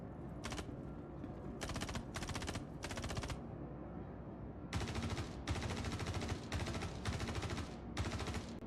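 Enemy gunfire rattles in a video game: bursts of rapid automatic fire, several loud volleys separated by short pauses, with heavier continuous firing in the second half.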